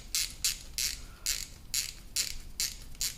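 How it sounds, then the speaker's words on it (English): Brass LPG injector nozzles are screwed back into a plastic body on a Vauxhall Corsa D, giving a run of about eight bright ratcheting bursts at a steady rhythm, close and crisp over quiet background. "I'll get these brass nozzles put back in"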